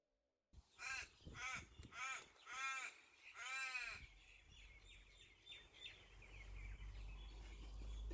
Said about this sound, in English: The birds are out and they're happy and they're flying all around